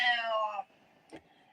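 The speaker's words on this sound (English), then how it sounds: "And my cat said, yes." A pet cat gives one clear, drawn-out meow, close and fairly loud, then goes quiet apart from a short faint rustle.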